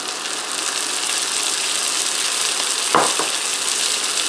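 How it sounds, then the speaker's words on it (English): Frozen peas hit a hot pan for a chicken pot pie casserole and set off a steady, close hiss of sizzling. A brief knock or stir sound breaks in near the end. "I'm going to add in 2/3 cup of frozen peas"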